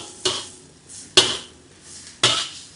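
A spatula scrapes and clanks against a hot pan of chicken fried rice in three sharp, evenly spaced strokes, each with a brief rattling decay and no talking.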